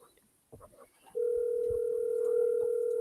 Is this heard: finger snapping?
no